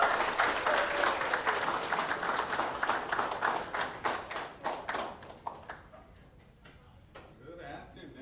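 Audience applause in a high school gathering welcoming an Army sergeant, steady dense clapping that gradually thins out and fades to scattered claps.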